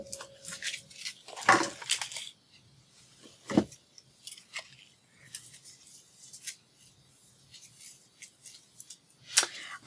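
Scissors snipping a slice from the edge of a paper craft piece decorated with pearls, lace and bling: several crisp, crunchy cuts in short bursts, close up, with quiet pauses between.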